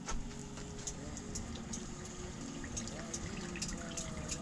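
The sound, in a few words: pouring lukewarm water to dilute flour for harira soup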